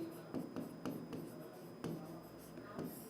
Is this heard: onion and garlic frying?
no